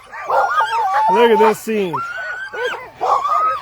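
Eager sled dogs at the start of a race in Canada's Arctic near Fort McPherson bark, yip and howl close by in excited overlapping bursts, with someone talking over them.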